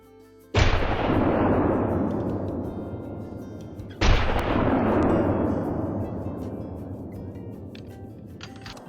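Two loud shotgun blasts ring out a few seconds apart while hunting a mule deer in Call of the Wild, each a sharp crack followed by a long, rolling echo that slowly fades across open terrain.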